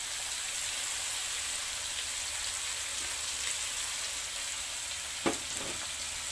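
Tofu mixture seasoned with black pepper stir-frying in a hot pan gives a steady, dense sizzle throughout, with a single louder scrape or clatter near the end and no voices.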